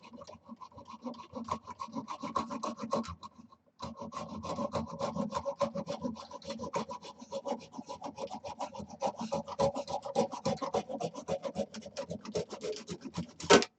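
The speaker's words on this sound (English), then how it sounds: "I will cut the rest off and just sand the knob off the bottom" Steady rasping strokes from hand-sanding the remaining knob off the bottom of a wood-turned piece, close and continuous with a brief pause early on, no talk.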